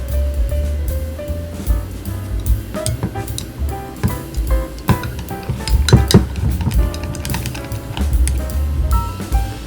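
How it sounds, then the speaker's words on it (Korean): Four eggs beaten with salt and pepper in a bowl with a utensil. The clip is full of continuous rapid clinking and tapping against the dish, with scraping and occasional louder knocks, close up and without speech. "당근을 넣고 달걀 4개를 풀어 소금과 후추를 섞어주세요."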